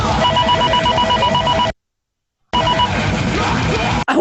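A telephone rings loudly as a sound effect in a song, its steady electronic trill running for nearly two seconds, then dropping out briefly before ringing again.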